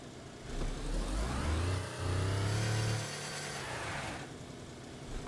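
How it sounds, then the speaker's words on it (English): A car engine in DayZ on the Livonia map revs up smoothly, climbing in pitch and then holding a steady mid-range drone before easing off. The sound is close, loud and continuous, with no voices over it. "And now it's even more smooth with the new car engine."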